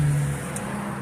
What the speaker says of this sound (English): Here comes another car.